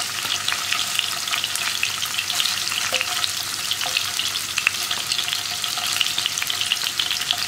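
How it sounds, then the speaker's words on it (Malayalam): Paneer fries in hot oil over a high flame, giving a dense, steady sizzle with occasional pops and stirring scrapes, close and continuous with no talking. "ഹൈ ഫ്ലെയിമിൽ വെച്ചിട്ട് തന്നെ ഇത് ഫ്രൈ ചെയ്യാം കേട്ടോ."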